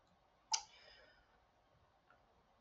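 A single crisp computer mouse click in a quiet room, followed by a faint softer click about a second and a half later.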